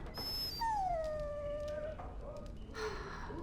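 A dog in Dragon Age: Origins gives a drawn-out, high, wavering whimper that slides downward, fairly clear over a steady low background hum.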